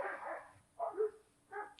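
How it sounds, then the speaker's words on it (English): Dogs fighting and barking outdoors during a yoga session in nature in Costa Rica, with three short bursts of snarling barks separated by brief pauses, moderately distant. "We got a little dog fight happening"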